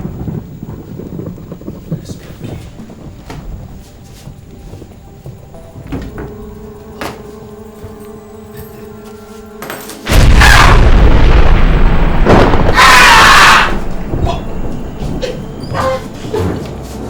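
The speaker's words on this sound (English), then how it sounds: "Let thunder fall from heaven and decay them in the name of Jesus Christ." Thunder effect in a Nollywood movie: a sudden loud, broad rumbling crash after steady low background sound, holding strong for a few seconds, with a brighter burst partway through, then trailing off.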